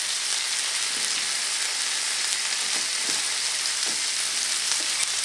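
Beef kabobs sizzling in hot olive oil on a pan, a loud, dense, continuous hiss with faint occasional taps, close up and alone without speech.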